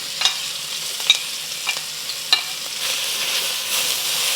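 Onion, ginger and garlic stir-fry in oil in a wok with a steady sizzle, broken by a few sharp scrapes of the utensil against the pan.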